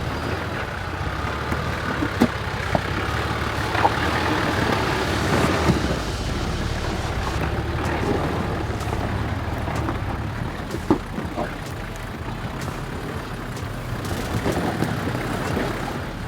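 A 4WD crawls in first gear low over big rocks on a tight mountain track at Black Bluff, Tasmania, its engine a low, steady drone mixed with rumbling, crunching and occasional knocks as the tyres climb.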